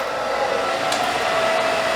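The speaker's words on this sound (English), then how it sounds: "bring it up, and use my blow dryer." A blow dryer running steadily while drying hair after an A-line haircut, a loud continuous whooshing roar with a faint whine, close up and constant, no talking.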